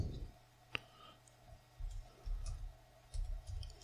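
Mouse clicks during network share setup on Peppermint 8 Linux: one sharp, close click stands out over faint low background rumble, followed by a few soft ticks.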